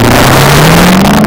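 A Chevrolet Camaro engine revs loudly and steadily, its low droning note climbing slightly in pitch across a brief burst, with no voices.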